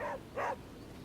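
Charlie the dog in Midnight Suns gives two short, close barks in quick succession, then quiet.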